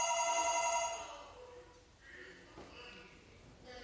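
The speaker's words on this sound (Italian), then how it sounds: "Il telefono, lo sentite?" A telephone rings with a bright repeating electronic tone, loudest in the opening second and then fading, leaving a low murmur and some faint rustling noise behind it.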